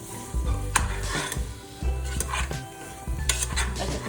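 Potatoes being stirred in a pot for kale soup, with repeated scraping and clinking of a utensil against the metal pot over a soft sizzle. The strokes come in irregular bursts at close range, with no talking.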